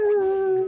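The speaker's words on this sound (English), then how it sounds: "Oh, Alex, you've got a bloodhound." A bloodhound in the video game Ty the Tasmanian Tiger gives a single short, loud woof with a drawn-out howling tone, heard alone and up close.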